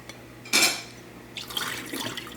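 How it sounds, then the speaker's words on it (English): Whey drained from homemade cream cheese is dumped out: a sharp clatter of a container, then a few seconds of splashing, pouring liquid nearby, with no talking. "I'm gonna go dump this extra liquid right now because it's gonna start filling up pretty fast"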